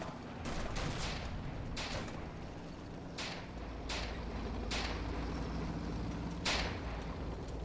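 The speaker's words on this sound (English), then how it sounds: "these guys are getting shot at by something very heavy" Heavy gunfire in a World War II desert battle in Combat Mission: Afrika Korps, with several loud sharp shots spaced a second or so apart over a constant low rumble.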